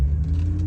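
A car drives slowly into a building's parking area, a steady low engine rumble and road noise held close throughout, with no talk.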